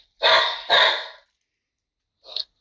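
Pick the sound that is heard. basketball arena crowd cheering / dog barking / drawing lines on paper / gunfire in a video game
dog barking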